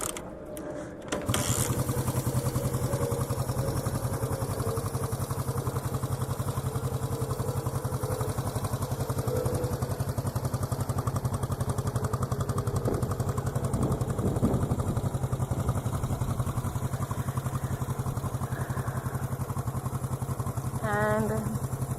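A 1973 Honda CB350 G motorcycle is kickstarted with a brief clatter, then settles into a steady, close, rhythmic mechanical idle that runs throughout, with a faint ratcheting near the end.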